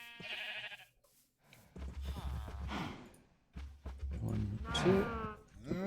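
Buffalo in modded Minecraft (SevTech) let out a few bleating, lowing calls in bursts, close and moderately loud, with a person talking over parts of them.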